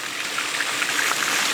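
Dirty water discharging from a pool sand filter during backwashing, a steady rushing trickle and splash that stays constant and fairly close throughout.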